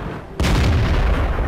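A single sudden, loud tank cannon blast in the video game World of Tanks, with a deep booming rumble that sustains after the shot.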